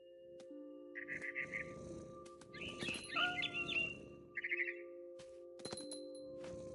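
Mama bird in the game What Remains of Edith Finch gives short bursts of bright chirps and warbling calls, with a few chirp clusters spread over a low steady ambient hum.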